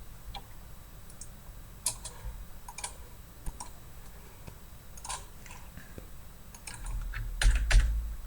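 Scattered keystrokes clatter on a computer keyboard, irregular bursts of clicks with pauses between them, near and fairly quiet, ending in a louder flurry of taps and a thump.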